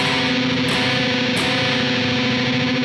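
Tremolo-picked, sustained, heavily distorted electric guitar tone at the 9th fret of the 4th string, with a buzzing, fuzzy texture and a couple of brief bright bursts, loud and close.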